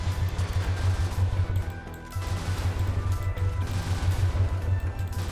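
Burst fire weapon shooting in Brigador, loud rapid repeated bursts of low thudding shots in steady rhythm, with a brief pause midway before firing continues.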